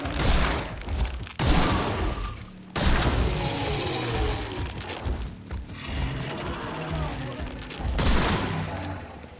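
Gunfire in the horror game The Sinking City: several loud, sharp shots at irregular intervals, each a sudden broadband crack, with mechanical clicks and rattles between them.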